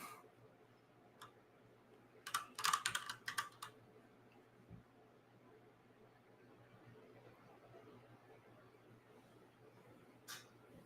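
A quick burst of computer keyboard typing, several rapid clicks close by in a quiet room, followed by a few isolated keystrokes later on.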